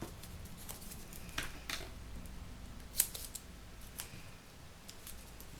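Paper snipped with scissors in a quiet room, a series of soft, crisp cuts with one sharper snip partway through, close and fairly faint.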